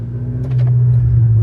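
A BMW F10 M5 with an X-pipe exhaust accelerating in a short, loud pull, its deep engine drone rising and swelling as it builds speed.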